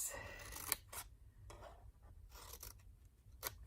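Scissors snip through paper card for a small graduation gift bag, several short close cuts in an uneven rhythm with faint rustling between them, quiet and with no talking.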